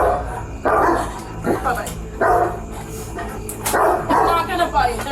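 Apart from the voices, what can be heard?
dogs barking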